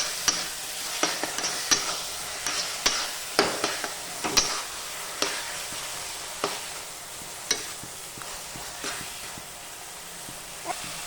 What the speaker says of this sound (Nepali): चलाउनु चलाउनु एकछिन पकाउने साथीहरू।